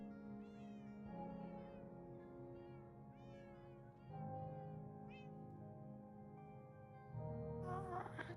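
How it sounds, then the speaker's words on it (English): A cat meows in the video game Minecraft GregTech New Horizons, several short mewing calls sitting over a continuous layer of droning, humming machinery. "Why is there a cat up here?"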